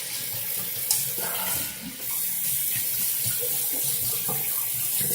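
Hot water runs from a sink tap in a steady, close splashing stream, with a few small clinks and splashes and no talking.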